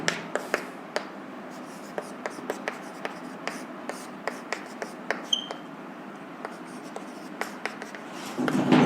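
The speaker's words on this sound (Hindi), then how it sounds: "इसको यहां लिख देता हूं मैं" Chalk or marker tapping and scratching on a board during an electronics lecture, a steady series of short, sharp clicks and strokes with faint room noise and quiet speech at the end.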